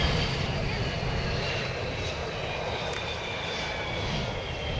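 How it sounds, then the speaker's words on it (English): Twin piston engines of a Bristol Blenheim roar steadily as it flies past at the Duxford Battle of Britain airshow, a loud, continuous broadband drone holding across the whole stretch. "From the left, the Blenheim."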